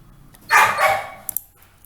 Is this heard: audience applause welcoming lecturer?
no